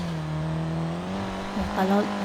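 A lorry being driven fast in a video game, its engine tone holding steady then rising in pitch and revving toward the end, loud and close, with no talk over it.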